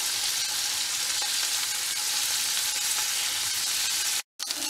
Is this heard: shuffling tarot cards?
no